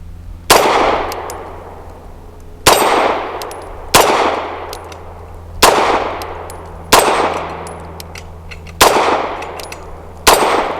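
Six sharp gunshots from a Tisas B9R 1911 Carry DS pistol firing Fiocchi ammunition, spaced irregularly about one to two seconds apart, each loud and close with a ringing decay.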